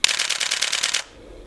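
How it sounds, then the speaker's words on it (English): Canon 1D Mark III professional DSLR from 2007 firing its shutter in a rapid 10 fps burst, about ten crisp mechanical clacks in quick even succession for one second, loud and close, then stopping. "just listen to the awesome sound of and reassuring sound of this"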